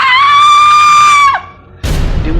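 A narrator imitates a woman's scream with a long, shrill, sustained cry that breaks off abruptly, followed by a short silence and then a sudden loud thump.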